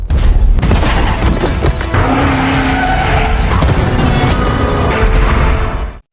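A car in a film skids and slams into a man, a loud sustained roar of squealing tires and engine with heavy impact booms, holding strong for about six seconds before cutting off.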